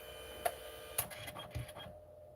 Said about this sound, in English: It's reprinting all the pictures that I printed before.